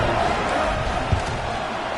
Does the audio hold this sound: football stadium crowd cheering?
yes